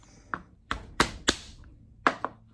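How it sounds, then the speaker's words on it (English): Five large garlic cloves smashed on a kitchen board for roasted garlic hummus, giving about seven sharp, close thunks spaced irregularly with brief pauses between them. "I'm using 5 large cloves of garlic. I am going to smash these"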